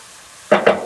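Onion, garlic and sweet potato sizzle in a pan, with two short bursts of stirring and frying heard close up after a quiet start.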